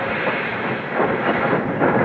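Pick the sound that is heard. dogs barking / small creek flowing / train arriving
train arriving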